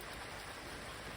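Steady rain pouring down outdoors by an old Japanese farmhouse, a dense, even hiss of drops on surfaces with no breaks, no voices in this stretch.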